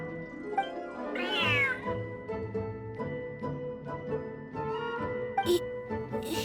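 A cat in the game Genshin Impact meows repeatedly during a petting event, a rising drawn-out meow followed by shorter cries over steady background music, close and clear.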